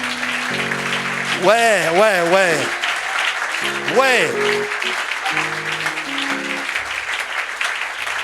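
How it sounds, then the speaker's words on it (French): A church congregation applauds and cheers in a steady wash of clapping, with an organ or keyboard playing melodic phrases over it and a brief voice. "Est-ce que tu peux acclamer pour le Seigneur?"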